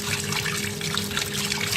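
Tap water runs steadily over pieces of fish being rinsed clean before cooking, a close, continuous splashing trickle with no voices.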